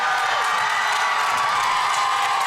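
A wrestling arena crowd roars in a sustained, loud cheer after a spinebuster, a dense wall of voices with scattered whoops.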